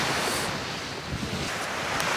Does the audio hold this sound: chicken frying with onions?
no